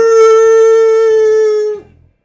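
A person imitates a Jurassic Park T-Rex roar with a single loud, sustained tonal howl lasting nearly two seconds, then drops off abruptly into a brief low rasp.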